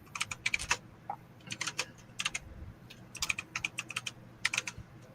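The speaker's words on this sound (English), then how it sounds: "My typewriter sounding keyboard." A loud, clacky computer keyboard with a typewriter-like sound is typed on in quick clustered bursts, close by, over a steady low room hum, with no speech.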